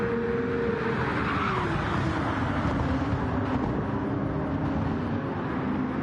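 Race cars lap the Le Mans circuit in Gran Turismo 7 at sunset, a steady, loud engine drone with tyre noise that holds throughout without breaks.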